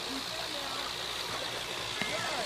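Water spills steadily over a small pond waterfall caked in buildup, a continuous close hiss and gurgle with no break.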